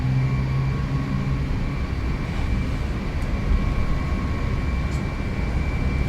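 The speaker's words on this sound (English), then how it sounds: "Gonna make this a rolling takeoff." The jet engines of an L1011 Tristar in a flight simulator game spool up for a rolling takeoff, a steady, loud whine with a broad roar beneath it and a sustained high tone running through.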